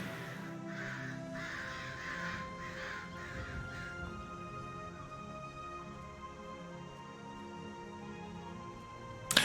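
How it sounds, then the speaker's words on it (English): Crows caw in a short burst of several harsh calls early on, moderately distant over a steady background hum, then fade, with no talk. "Those crows just reminded me of a really bad joke."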